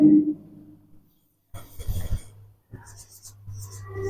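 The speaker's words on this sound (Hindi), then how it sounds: "हम छोटा लिख देते हैं।" A marker or chalk scratches across a board during a classroom maths lesson, in short bursts of quick, dry strokes separated by pauses, with a voice briefly audible at the start.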